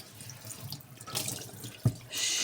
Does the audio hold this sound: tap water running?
yes